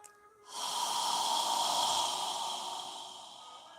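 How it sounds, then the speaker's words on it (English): A slow breath drawn in through the nose and let out through the mouth during a yoga session, one long airy exhale rising quickly after a brief inhale, close and soft, then slowly fading. "We're going to inhale through our nose and exhale through our mouth."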